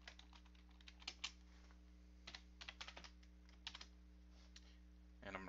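Light, quick keystrokes on a computer keyboard typing a short name, soft irregular clicks over a steady low hum, ending in a brief louder cluster.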